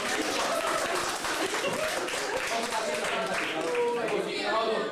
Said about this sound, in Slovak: Tleskajme mu.